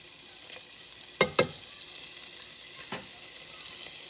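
Sausage sizzles and fries steadily in a pan, with a few sharp stirring clatters and scrapes breaking through the continuous crackle, close up and with no talking.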